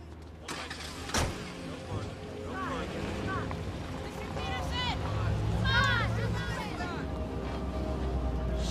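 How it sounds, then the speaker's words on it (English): A car engine rises and pulls away as the car drives off, a loud and steady rumble that builds gradually, with voices talking over it. "He just drove off"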